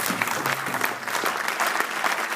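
Loud, dense applause from a large church congregation of thousands acclaiming the Lord, steady clapping filling the whole moment with a faint crowd murmur beneath.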